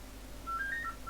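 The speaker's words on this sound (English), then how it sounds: "My landline phone is ringing." Landline telephone giving short electronic tones, a few brief beeps at slightly different pitches in quick succession, faint and close over low background hum, with no one speaking.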